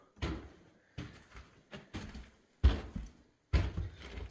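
A huge wooden front door on a farmhouse in Portugal is worked several times, giving five separate heavy thuds and rattles, each fading quickly, close and fairly loud with short pauses between.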